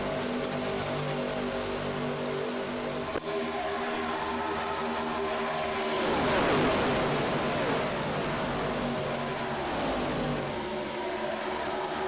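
Several race car engines in the iRacing video game droning together in a steady, loud, layered whine, with pitch sweeps as cars rev and pass near the middle, and no talk.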